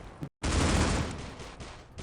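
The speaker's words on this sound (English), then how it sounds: "they can see some gunshots coming through" Gunfire in the shooter game C-Ops comes as a dense, loud burst of rapid shots following a brief silence, then decays into a rumbling tail.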